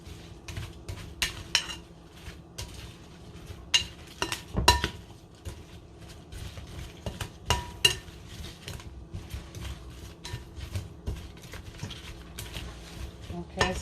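Potatoes and sprouts get mixed with oil and seasoning in a bowl, a spoon scraping and clinking against the dish in quick irregular bursts, with someone talking quietly.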